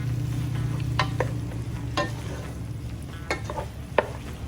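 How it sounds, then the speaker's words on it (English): Fried prawns are tossed in chilli garlic sauce in a pan, giving a low sizzle with several sharp scraping and clanking stir strokes spread across the clip. "Toss them to coat with the sauce really fast."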